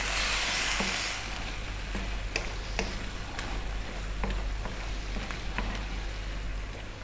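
Tomato and spinach pasta sauce bubbles in a pan over heat just above a simmer, a soft steady sizzle with scattered small pops and ticks, fairly quiet and close, with no one speaking.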